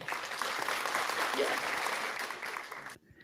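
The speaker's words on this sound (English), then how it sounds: "that's worth an applause" Steady applause from a studio audience on a sports talk show runs for about three seconds and then cuts off abruptly, with a short bright tone at the end.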